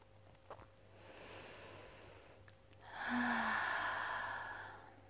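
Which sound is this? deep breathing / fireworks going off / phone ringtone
deep breathing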